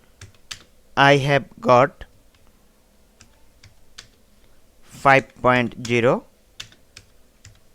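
Fingers tap steadily on a computer keyboard while a freelancing profile form is filled in, light clicks scattered throughout, with short bursts of someone talking in between.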